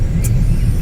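Steady low road-traffic rumble from passing cars fills the background continuously, loud and close, with no other clear events.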